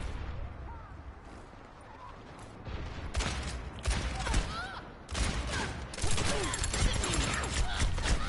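Overwatch gunfire crackles in dense, loud bursts of rapid shots and impacts, building and continuing through the second half with no voices.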